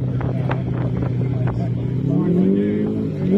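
A Ford Falcon Sprint race car engine at a Supercars event at Symmons Plains, a loud, steady engine drone that rises in pitch toward the end, mixed with crowd and track noise.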